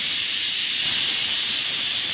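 A new electric juice maker runs with cut amla inside, giving a steady loud high-pitched whirring hiss throughout with no talk.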